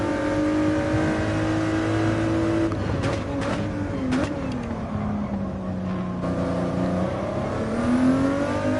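A race car accelerates hard out of a corner at high speed, its engine whining up through the revs with rising and falling pitch sweeps and brief gear-change breaks, loud and continuous from the onboard position.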